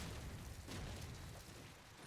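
Smoke grenades bursting during a competitive Call of Duty 4 LAN match on the map Strike, a dense, continuous wash of muffled pops and hissing noise with a louder burst partway through, no talk.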